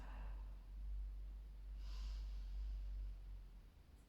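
Slow, deep breaths during a slow-flow yoga class: a long, soft airy inhale and exhale, close and quiet, with a brief sharper rush of air in the middle and no talking.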